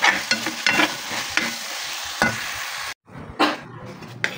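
Oily Filipino chicken adobo sizzles in a pan while a utensil scrapes and stirs it in repeated close strokes, with a brief cut of silence midway before the stirring and frying resume.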